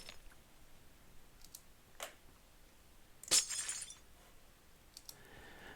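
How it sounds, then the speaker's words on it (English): Minecraft glass blocks being broken, a few faint clinks early on and one brighter shattering crash in the middle, against near silence with no talk. "Now we can come up and remove the glass."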